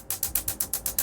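Laser tattoo removal machine firing on skin, a rapid, even series of about eight sharp snapping pulses, close and fairly loud, with no talking.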